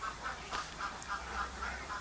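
Ducks on a duck farm quacking in a steady series of repeated calls, moderately near, with a faint constant background hum and no talking.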